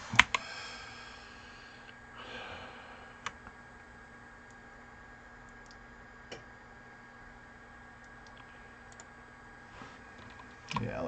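Sharp, isolated computer mouse clicks spaced a few seconds apart, about five in all, sound close over a faint steady hum in a quiet room, with no speech.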